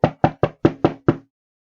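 Six sharp knocks on a door land in a steady, evenly spaced rhythm, close and fairly loud, followed by silence, with no voices present.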